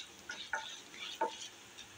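Coriander seeds and urad dal dry-roasting in a pan for ginger chutney, heard as faint, scattered scrapes and light crackles from stirring, a few sharper ticks standing out in a quiet kitchen.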